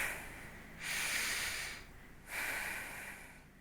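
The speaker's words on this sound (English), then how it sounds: "Take one more deep breath in" Slow, deep breathing during a yoga session, with a long airy inhale and a long exhale, close and steady, and no one talking.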